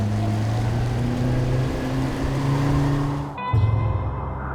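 An outboard boat motor on a salmon fishing trip hums steadily, then briefly drops off before surging back up louder as the throttle is opened, with water noise around it.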